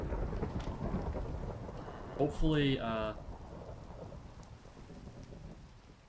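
Steady rain hisses throughout a Minecraft thunderstorm, with a brief rumble mid-way, while a voice speaks briefly over the downpour.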